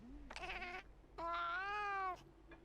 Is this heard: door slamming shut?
no